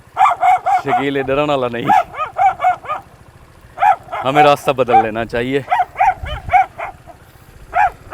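Street dogs bark repeatedly nearby, a run of loud, sharp barks with some yelping, interleaved with someone talking over and between them.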